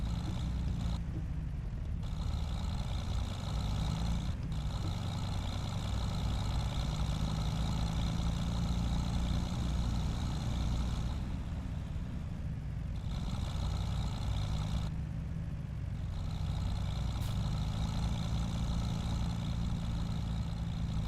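Tractor engine in Farming Simulator 25, a steady low idling rumble that runs unbroken and moderately loud throughout, with no talk.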